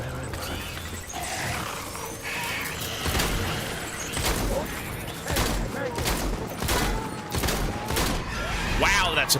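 Gunfire in the video game Death Stranding, a dense continuous fusillade of shots with booming impacts over a noisy mechanical background, while a voice talks at moments.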